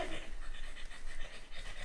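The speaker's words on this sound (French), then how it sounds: "Non, va-t'en le chien!" A dog pants rapidly and steadily, close by, with rhythmic breathy huffs continuing throughout and no voices.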